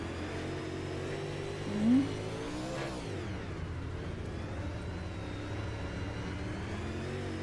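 UMP modified race car in iRacing, heard from the in-car view. The engine drones steadily throughout, with one brief rise and fall in pitch near the start. There is no talking.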